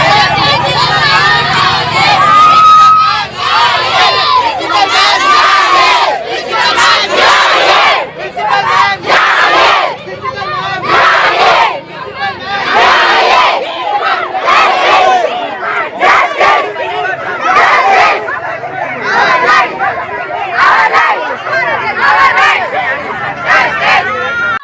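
Protesting college students at a law college shout and chant together in a dense, loud crowd, voices surging and overlapping close by with constant babble throughout.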